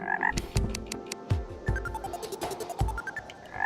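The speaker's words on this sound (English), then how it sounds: "Gold frog, gold frog, gold frog." A gold frog in Terraria croaks repeatedly, bright clicking croaks coming in quick irregular bursts, close and clear with no talking over them.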